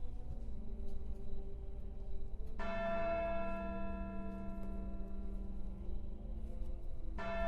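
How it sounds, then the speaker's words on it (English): A large bell rung in the video game Syberia 2 tolls with a sustained metallic hum, struck again near the end, loud and alone over steady low ambience. "Am I supposed to ring the bell or something?"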